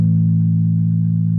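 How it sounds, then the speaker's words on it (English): A low bass guitar E string rings out from a single pluck as one steady, sustained, loud and close tone with no talking. "that's the E string being played"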